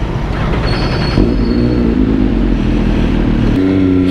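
An MV Agusta F3 sports motorcycle fitted with a new Sprague starter rides along, its engine a loud, steady close-up drone with a gear shift or throttle change near the end.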